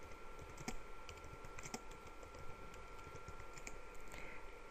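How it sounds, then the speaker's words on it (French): Quiet, steady keyboard typing with irregular key clicks, entering text into a text box in a graphing program while solving a quadratic equation, close and alone without talk. "je vais taper valeur de x"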